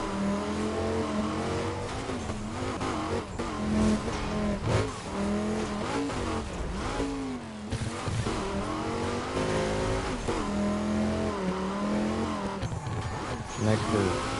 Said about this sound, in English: Sounds like it's got a Viper V10.